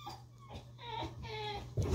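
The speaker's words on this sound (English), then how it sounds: "Sorry, my dog is throwing a tantrum." A pet dog whimpers and yips in high, wavering cries during a tantrum, several drawn-out whines in a row, fairly close, ending in a louder burst of noise.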